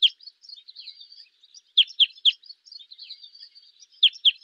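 Red crossbill call type 2, recorded in central New York: a series of short, choppy, downward-sweeping chip notes, some grouped in quick pairs, from a nearby finch with faint softer calls between them.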